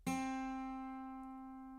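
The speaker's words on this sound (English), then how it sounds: "place it on the first fret here on the B string and create this noise" A single plucked guitar note on the B string, first fret, rings out clearly and sustains, slowly fading over about two seconds with no other sounds.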